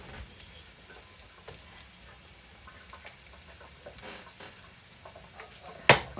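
Food sizzles in a pan while it is stirred, a quiet steady crackle broken by scattered scraping taps of the utensil and one sharp clack near the end.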